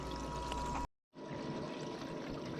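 Water streams steadily across a Miller table during fine gold recovery, a constant close rushing flow that cuts out for a split second and then resumes.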